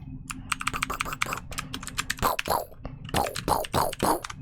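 Rapid bursts of typing on a computer keyboard, close and crisp, with clustered keystrokes broken by short pauses and a few harder key strikes toward the end.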